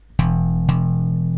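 Two open E strings slapped on a bass guitar, two sharp percussive attacks about half a second apart, the second note left ringing with a deep sustained tone, close and clear with no talking.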